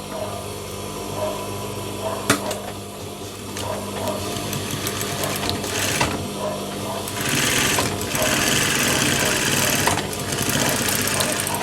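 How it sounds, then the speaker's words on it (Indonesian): A sewing machine stitches the rib cuff of a garment in a close, steady mechanical whir with brief pauses and clicks, rising into faster stretches of stitching near the end. "Jadi kita jahit dulu kurang lebih 1 cm dari bagian atas ke bagian bawah."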